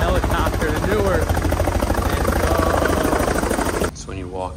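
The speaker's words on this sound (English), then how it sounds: "we're taking that bad boy, the helicopter to Newark" Helicopter bound for Newark, a loud steady rotor drone with rhythmic blade chop close by, dropping suddenly to a quieter muffled hum near the end.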